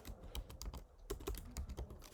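Keys clatter on a computer keyboard in quick, uneven bursts of close, light clicks, with no talking.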